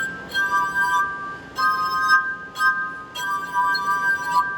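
Sustained ringing glass harp tones swell and fade in several long bowed-like phrases, bright and pure with clear overtones, played close and alone.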